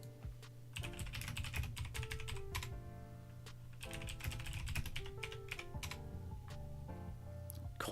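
Rapid keyboard typing and mouse clicking at a computer while flipping through stock charts, continuous close clatter over a steady low hum and music tones, no talking.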